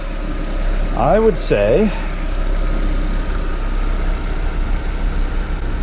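A Volkswagen Jetta engine idles steadily after an alternator repair, a low, even hum with a constant rumble underneath, while someone speaks briefly close by.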